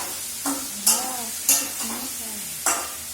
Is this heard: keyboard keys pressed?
no